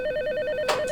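Rapid electronic trilling of a desk telephone ringing in a county veterans affairs office, one steady ring burst, close and loud, alone without talk.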